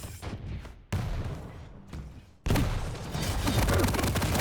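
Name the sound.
rocket fire in a video game fight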